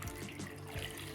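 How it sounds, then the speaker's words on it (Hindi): A single glass of water pours steadily into a cooking pot holding jaggery for laddoos, a soft continuous splash and trickle heard close up for about a second with no talking. "सिर्फ 1 ही गिलास पानी डालूँगी"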